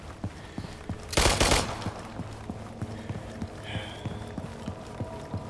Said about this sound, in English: A lot of shots going off there.